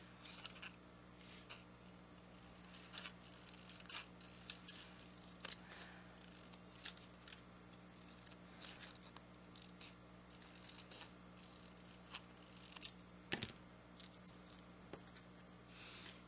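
Paper being snipped with scissors while cutting out a shiny, metal-looking astronaut helmet, a series of soft, quiet irregular snips and small rustles close by with no talk.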